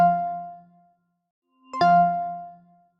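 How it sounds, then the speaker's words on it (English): Two soft, bell-like electronic chime tones from an iPhone 14 at startup, one ringing out and fading, then a second brighter one after a short silence, clean and isolated. "the sound that is going to play on the iPhone 14 when you boot it up and when you boot it down"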